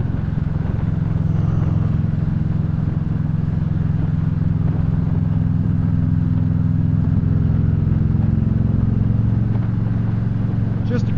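A Victory Cross Country motorcycle engine idles steadily and smoothly with a deep, continuous low rumble close by, holding even throughout with no talk over it.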